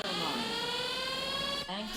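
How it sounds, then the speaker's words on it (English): An Aqua Map anchor alarm sounds on a boat that has drifted outside its set radius, a steady electronic tone with layered harmonics held loud and unbroken, then briefly cutting out before resuming. "there is the alarm that informs you that your bot is outside the radius"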